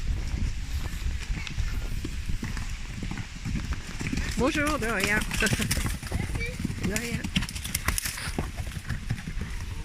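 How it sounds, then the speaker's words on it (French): Small horses pass by on the road, their hooves clip-clopping in an uneven patter beneath brief spoken greetings, with outdoor background noise throughout. "Il y a des petits chevaux qui passent"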